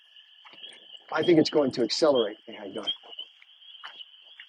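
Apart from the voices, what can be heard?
frogs croaking in a nearby pond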